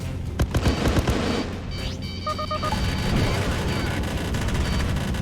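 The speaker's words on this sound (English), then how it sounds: "now we're gonna come around on it and hit it with the assault gun" An assault gun fires in the space-combat video game Freelancer: a rapid burst of sharp shots at the start, then a dense, roaring barrage of explosions and electronic beeps, with a voice talking over it.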